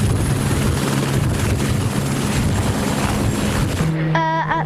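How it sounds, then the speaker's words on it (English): A helicopter takes off for a ride around an airport, its loud rotor and engine roar filling the scene with steady churning chop close by, before it cuts to a quieter moment with a clear humming tone. "Their first order, a helicopter ride around the airport."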